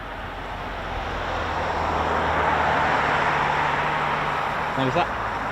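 A US Air Force aircraft at an RAF base makes a broad, steady jet roar that swells and holds loud, with a voice speaking briefly near the end.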